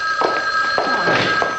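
A telephone rings in an interior setting, a steady high electronic trill with bursts repeating through the moment, fairly loud and alone with no talk over it.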